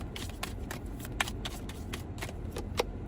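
Tarot cards riffle and slap together in a quick, steady run of shuffling, each flick a soft papery burst, close and fairly quiet with no talking over it.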